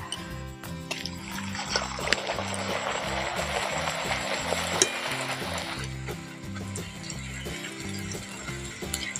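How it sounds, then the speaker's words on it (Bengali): Tomato-flavoured fuchka puris deep-fry in hot oil with a steady, busy sizzle and bubbling that swells for several seconds and then eases off, alongside a low rhythmic mechanical hum. "এই ফুচকাগুলো হলে সব ফুচকা ভাজা হয়ে যাবে।"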